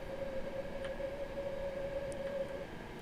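BR Class 390 electric train on the West Coast Main Line near Crewe, in a train simulator game, giving a steady sustained tone over a continuous rumble, with a faint chime or two and no talking.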